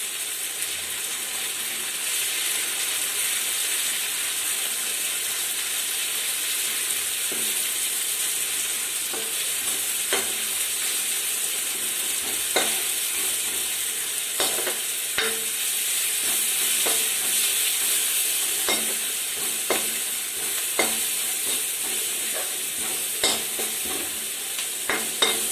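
Coriander, chili and turmeric powder are stirred into a sizzling frying pan for rajma, the steady hiss of frying running throughout, broken by frequent scraping clicks of the spoon.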